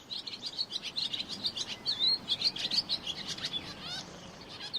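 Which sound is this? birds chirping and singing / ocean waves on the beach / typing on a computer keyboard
birds chirping and singing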